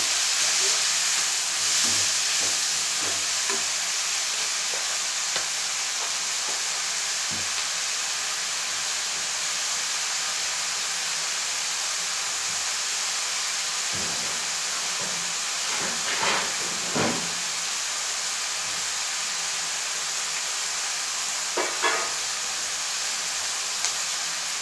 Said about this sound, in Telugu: ఉల్లిపాయ ముక్కలు మెత్తబడ్డానికి వేస్తున్నానమ్మా.